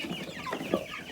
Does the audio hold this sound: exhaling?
no